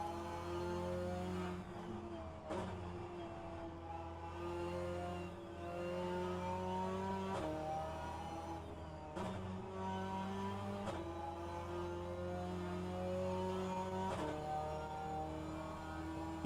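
Alpine A110 Cup race cars at Lime Rock Park in rFactor 2 drone steadily in a pack, engines repeatedly revving up and then dropping sharply at each gear shift, all fairly faint.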